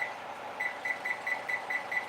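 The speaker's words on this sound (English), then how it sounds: "Let me set my timer as well for 15 minutes." A kitchen timer set for 15 minutes gives a run of quick, faint, evenly spaced beeps over a steady low background hum.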